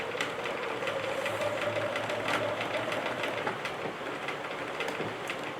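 A sewing machine fitted with a zipper foot stitches fabric at a set stitch length, a steady rapid mechanical whir with fast rhythmic needle thumps running throughout.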